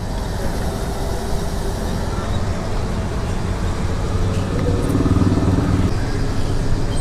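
A Yamaha R15 V2 motorcycle rides along an open road on a long-distance trip, its engine drone blending with heavy wind rush, loud and continuous, with a slight swell in engine tone toward the end.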